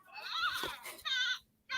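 Bleating from a Toy Story sheep toy, a short electronic baa repeated in bursts with brief gaps, close and fairly loud, with a voice talking briefly under it.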